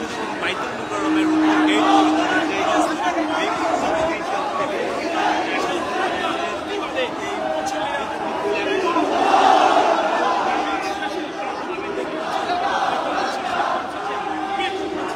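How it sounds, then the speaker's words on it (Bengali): A protest crowd outside Baitul Mukarram mosque in Dhaka chants slogans, a dense wash of many voices rising and falling in waves, with one voice briefly louder near the start and a surge of shouting around the middle. "বিরুদ্ধে তাদের যে প্রতিবাদী স্লোগান দিচ্ছে বায়তুল মোকাররমের"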